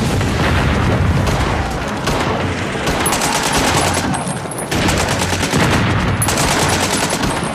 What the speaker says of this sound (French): sous le feu nourri de l'ennemi